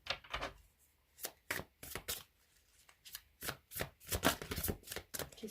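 A tarot deck of guardian angel cards is shuffled by hand at close range, giving rapid, crisp riffling bursts and slaps in an irregular rhythm that grow denser toward the end, with no voices.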